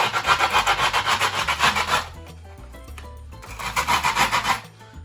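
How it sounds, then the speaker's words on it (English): A screwdriver scrapes around the edge of a wooden skateboard deck in loud, rapid rasping strokes, a burst of about two seconds, a quieter pause, then another burst of scraping. "Next step is to take a screwdriver or any metal, something hard. We can go around the whole edge like this."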